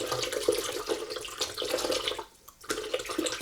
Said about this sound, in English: Let's open up that nice, cool coconut water and just pour that in there